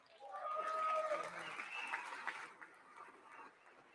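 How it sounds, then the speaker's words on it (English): Applause from a large audience at a State of the Union address, a steady wash of clapping that builds quickly, holds, then gradually fades, heard somewhat distant and without speech over it. "I wasn't sure if anybody, even on this side, was going to applaud for that"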